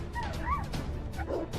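German shepherds bark and yelp in quick, excited bursts while fighting a python, with some whimpering. The sounds are close and fairly loud over a busy background.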